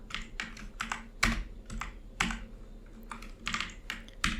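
Quick bursts of computer keyboard typing while subject names go into an Excel sheet, close and clear keystrokes in short uneven runs with brief pauses between words.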